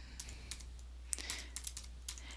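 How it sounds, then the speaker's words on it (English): Quiet keystrokes on a computer keyboard as contact information is typed in, a light irregular patter of taps over a low steady hum. "So I'm just going to type it in"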